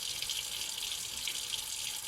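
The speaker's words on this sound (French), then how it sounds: "donc je vais mettre un petit peu d'eau très très chaude. Donc là, je vais laisser couler" Very hot water pours steadily from a tap into a container for homemade liquid laundry detergent, a constant close hiss that continues without a break.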